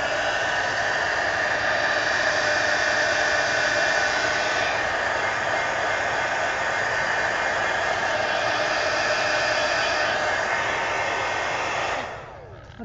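A dryer blows steadily over mixed media paint on an altered book, a constant loud whooshing drone that holds for about twelve seconds before switching off abruptly.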